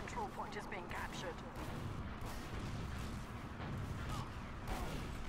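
Rocket explosions and gunfire pound continuously in a Team Fortress 2 match, dense and booming, with players talking over the battle noise.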